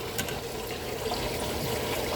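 Water is pumped out of a homemade catfishing livewell in a steady rushing, trickling wash, continuous and fairly close with no talk.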